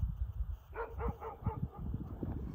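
A dog on a mountain trail near Almaty, Kazakhstan gives a string of short, rapid barks and yips at moderate distance, with quiet footsteps and outdoor noise underneath.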